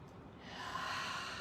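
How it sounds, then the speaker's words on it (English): A single deep inhalation, soft and close, drawn steadily for about a second with no talking. "Take one deep breath in there."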